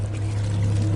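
Shower water pouring in the horror game Amnesia, a steady close rushing stream with a low hum underneath, continuous and fairly loud throughout.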